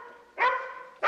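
A dog gives two loud, close barks about half a second apart, the first drawn out into a whining tone and the second sharp and abrupt.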